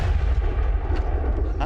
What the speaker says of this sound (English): Jamie has the chance to fire this supersized flechette gun